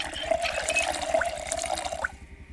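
Water running and splashing into bottles at a sink in the Project Zomboid survival game, a steady liquid pour with small drips and gurgles lasting a couple of seconds before cutting off.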